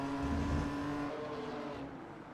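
Production race cars in iRacing roar past in a loud engine drone that fades slightly as they pull away, with no commentary over it.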